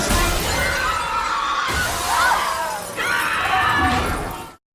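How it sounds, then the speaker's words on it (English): A glass floor shatters in a film scene, a loud sustained crash of breaking glass with a second burst of splintering partway through, ending abruptly in silence. "the glass beneath them shockingly breaks, plummeting many people to their deaths"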